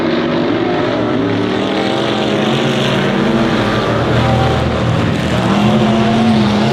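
Stock race cars lapping Honor Speedway, a loud, continuous roar of several engines blending and shifting pitch as the pack circles the oval, with no voices over it.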